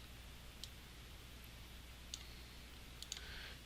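A computer mouse clicks sparsely and faintly while shapes are drawn in CorelDRAW 2020, about four crisp clicks spaced irregularly over a quiet room hum.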